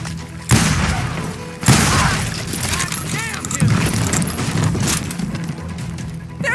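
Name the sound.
gunfire in a street shootout, from the video game Call of Juarez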